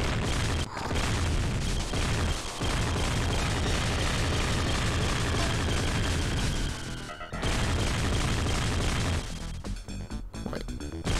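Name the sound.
mini missile explosions in a video game played on Mega SG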